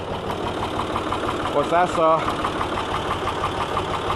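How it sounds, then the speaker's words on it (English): A little Ford half-size tractor with a 3-cylinder diesel engine runs steadily and close by at a low, even idle, with someone talking over it throughout. "about half-size tractor, 3-cylinder diesel engine"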